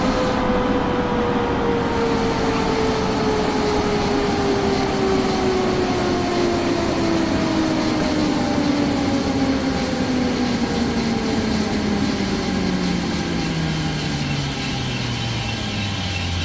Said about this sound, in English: Yep, I just threw the emergency brake.